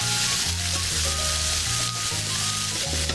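Chicken sears in a hot pan with a loud, continuous sizzle and crackle, close by and with no voices over it.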